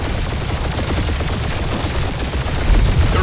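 Turret gunfire rattles in Marvel's Guardians of the Galaxy on PS5, dense rapid bursts from several guns hammering on continuously and loudly, with a heavier thump near the end.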